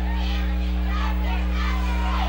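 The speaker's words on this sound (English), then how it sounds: "Big crowd on hand for this big football game" Crowd noise at a night high school football game at Civitan Field, a dense continuous murmur of many voices and shouts under a loud, steady low hum.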